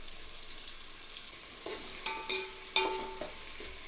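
Coriander and onions frying in oil for a prawn biryani: a soft steady sizzle with a few clinks of a spoon stirring against the pan near the end, no talking.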